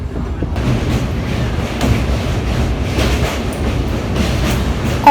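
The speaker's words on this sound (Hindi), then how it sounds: "हमारी ट्रेन पाटलिपुत्रा से खुल गई है" An EMU passenger train rolls across the Jayaprakash Narayan rail bridge between Digha and Sonpur, heard from on board as a loud, steady rumble with rhythmic wheel clatter and occasional knocks.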